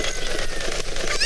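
A cucco chicken in Ocarina of Time gives a short, honking squawk, close and fairly faint, heard alone.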